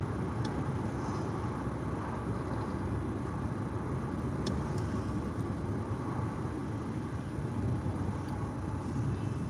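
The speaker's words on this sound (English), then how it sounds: "This traffic this morning is smooth, but crazy drivers this morning on the road" Steady road traffic on a morning drive, heard from inside a car as a constant low rumble of engine and tyre noise with no talking.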